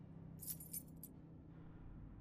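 Room keys jangle briefly in a few light metallic shakes during a handover, quiet over a low steady rumble.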